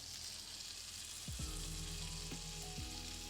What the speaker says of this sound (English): let it melt, let it sizzle. And once you hear this, can you hear it?